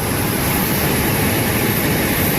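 A Boeing 737 jet airliner gives out a loud, steady broadband engine roar with a high whine layered on top, constant and close, with no voices over it.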